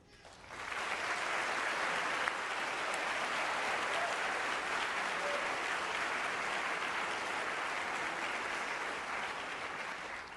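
Sustained applause from an audience at a NASA event introducing its 2025 astronaut candidates, greeting guests including Senator Ted Cruz; steady, dense clapping swells in and holds loudly throughout.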